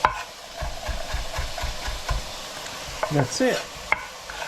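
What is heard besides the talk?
peppers, onions and carrots cooking in a pan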